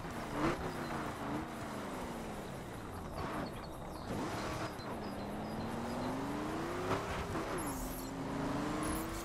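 Chevrolet Silverado pickup truck engine in a multiplayer driving game, a continuous mid-level engine note rising and falling in pitch as it accelerates and shifts, steady and moderately loud throughout, with no voices.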